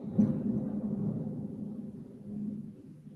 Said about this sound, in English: You hear all that thunder and lightning?